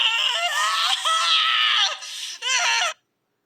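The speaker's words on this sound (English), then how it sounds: "Vinyl Scratch screamed out her endless grief" The animated pony Vinyl Scratch lets out loud, high-pitched screams of grief in two long anguished wails separated by a short break, then falls silent.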